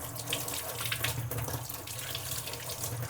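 Tap water runs steadily into a sink as tomatoes, chillies and lemons are washed, giving a constant close splashing hiss with small surges and no talking.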